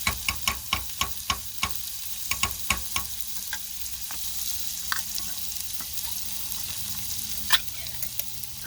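Eggs and tomatoes sizzle steadily in a pan, with a quick run of sharp utensil taps and scrapes early on and scattered stirring clicks later, close and moderately loud.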